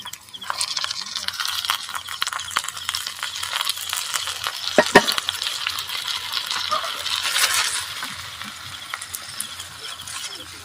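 San Marino corn tuna goes into a hot pan and is stirred, with close sizzling, scraping and occasional metallic clinks that run steadily throughout.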